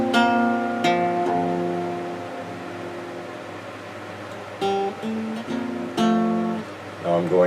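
Guitar chords with a barre at the first fret, the strings struck together three times, each ringing out and fading before the next strum, close and clear with no talking.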